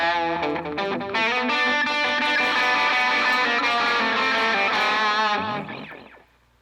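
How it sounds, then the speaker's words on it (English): An electric guitar played through an Echo Platter delay modeled on the Binson Echorec rings loud and distorted. Chords and notes smear into repeating echoes that swell, hold, then fade out at the end. "Echo platter based on the Benson Echo Rec."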